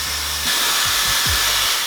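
A Dyson Airstrait hair straightener blows air on its dry setting, a loud steady hiss that swells slightly after a brief start, with a few low mechanical whirs underneath.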